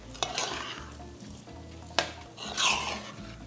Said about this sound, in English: So I'm adding my rice, mixing that in.